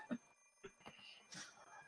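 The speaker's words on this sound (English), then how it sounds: "The alarm clock is deaf to my complaints." An alarm clock rings in the visual novel game Fate/stay night, a few short electronic bursts of ringing close and fairly faint, with game music faintly underneath.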